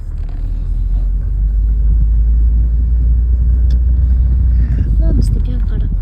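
A car pulls away from a house in a Turkish village, its engine rumbling low and steady from inside the cabin, with faint voices near the end.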